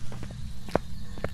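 Ghost footsteps during a hunt in Phasmophobia, a few soft, uneven thuds spaced irregularly across a little over a second, heard close over a low background hum with no talk.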